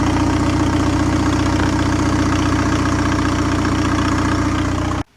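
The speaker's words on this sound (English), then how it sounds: "Hear the little turbo spooling up" Straight-piped diesel engine in a car idling loud and steady at close range, a dense rumble with a rising turbo whine over it for about five seconds before cutting off abruptly.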